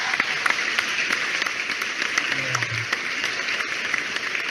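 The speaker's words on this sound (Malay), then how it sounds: "kita kasih applause dong buat Ms." A webinar audience applauds with steady, dense clapping that carries on throughout, close and fairly loud, with a faint voice briefly beneath it.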